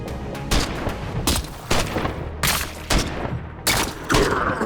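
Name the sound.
gunfire from a normal shot in the video game Every Day We Fight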